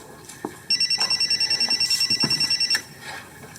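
A cell phone rings with a steady, rapid electronic trill lasting about two seconds, fairly loud and close indoors, then cuts off, with faint room noise around it.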